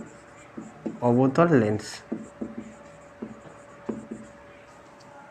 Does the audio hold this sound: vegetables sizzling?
no